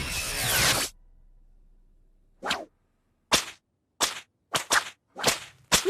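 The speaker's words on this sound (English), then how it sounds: "I also really like how they made light of the dumb whip cracks they added back in season 4" Cartoon whip-crack sound effects from an animated show, a sharp crack or two, then after a silent gap a string of six or seven quick loud snaps in an irregular rhythm, close and alone with no voices.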